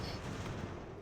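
Cannon and musket fire in Ultimate General: American Revolution, a dense, continuous crackle of volleys and booms heard at a distance, steady throughout with no talking.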